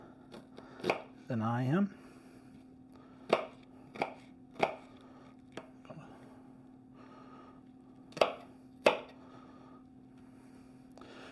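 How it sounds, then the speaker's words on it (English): Knife chopping onion into small pieces on a cutting board for a Texas corn salad, a series of sharp separate chops spread through the clip, with a steady low hum underneath and a brief spoken phrase. "We're going to cut it up in little pieces"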